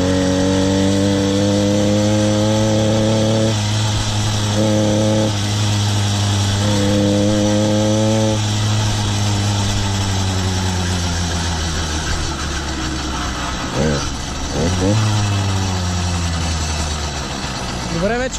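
Engine idling at low throttle just after a cold first start, a steady loud drone with a strong low hum, some pitch wavering partway through, and someone talking over it.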